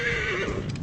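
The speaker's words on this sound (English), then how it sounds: "Where's my horse?" A horse in a video game gives a loud, close whinny, one sustained shrill neigh with a wavering pitch and no talking.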